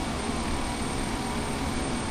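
In Flight Simulator X, another aircraft takes off as a steady, fairly faint engine drone that holds even for a couple of seconds. There is no talk over it.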